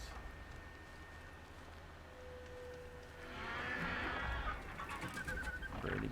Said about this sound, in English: Lots of birds.